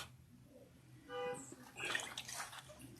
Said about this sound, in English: shut off the hot side of the water and use only cold water to close the pores